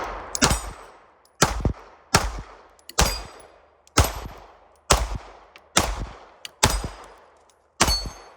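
Nine loud S&W Equalizer pistol shots at a shooting range, fired one at a time at a slow, uneven pace, each sharp crack ringing out and fading before the next.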